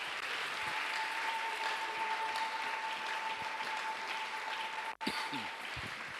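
A church congregation at an evening prayer service claps and cheers steadily, a dense wash of applause that briefly cuts out near the end before resuming, with a faint steady tone underneath.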